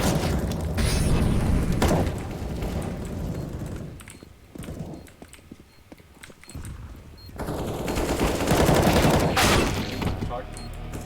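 Counter-Strike: Global Offensive gunfire: dense bursts of rapid automatic shots and booming fire, heaviest at the start and again near the end, with a quieter lull between and a voice talking over parts of it.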